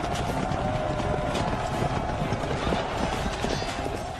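Hooves of cavalry horses break into a gallop, a dense, continuous rumbling clatter under a faint background hum.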